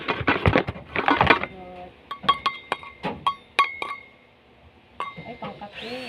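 A glass coffee cup clinks sharply several times during an unboxing, bright repeated taps and rattles, with a person talking briefly at the start.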